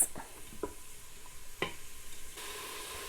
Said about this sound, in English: we're just going to mix this gently while it starts to saute